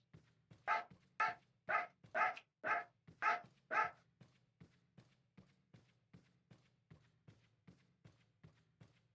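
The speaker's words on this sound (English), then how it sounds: "I forgot the name of that dog that's currently barking" A pet dog barks repeatedly in the background, about seven loud, evenly spaced barks followed by a long run of fainter, quicker yaps, each one sharp and alone with no talk over them.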